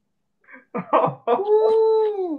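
A dog howls close by, a few rising yips and whimpers building into one long, sustained wavering howl that slowly falls in pitch, with no talk over it.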